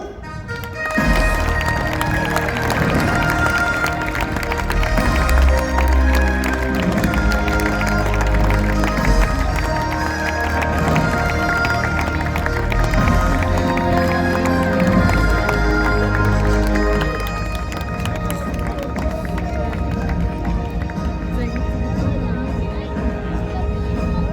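A large outdoor show crowd at Parc Astérix cheers and applauds in a loud, sustained wall of sound over the full length, with a dense, steady roar and scattered claps.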